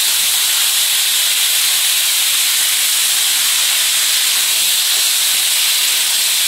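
Vegetable stems and potato pieces sizzle in a hot pan, a steady, loud hiss that runs unbroken throughout with no voices.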